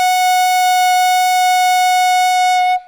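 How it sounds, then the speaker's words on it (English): Clarinet mouthpiece with reed, ligature and barrel sounds a concert F sharp, one bright steady buzzing tone held for nearly three seconds before cutting off, loud and close. "when we play just the mouthpiece and the reed, of course, and the ligature and the barrel together, we get what's called a concert F sharp"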